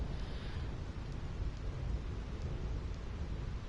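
Rumbling thunder and rain in a Final Fantasy X lightning area, a low continuous roll with steady rain hiss, fairly faint and without talk over it.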